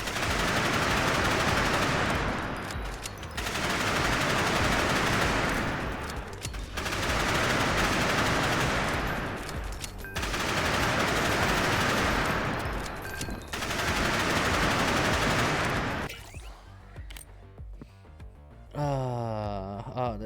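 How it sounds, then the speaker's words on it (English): Rapid volleys of missiles fire in the game Nimrods, loud dense bursts repeating in four long waves, each a couple of seconds apart, followed by sparser clicks and a rising synthetic chime at the end. "you're firing all these missiles"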